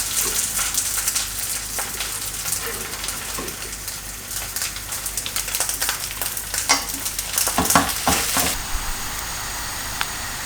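Cheddar and chorizo quesadillas fry in a pan over low heat, giving a steady close sizzle with occasional crackles and scraping stirs that grow busier toward the end.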